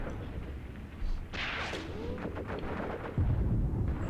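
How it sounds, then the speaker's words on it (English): A tank gun fires in the Graviteam Tactics wargame as a deep, rolling boom that swells and echoes. A second heavy low thump lands near the end over constant battlefield rumble. "What was that tank shooting at?"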